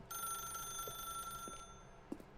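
A telephone rings in the video game The Stanley Parable with a steady electronic bell tone that holds for about two seconds, faint and alone, with a couple of soft clicks near the end.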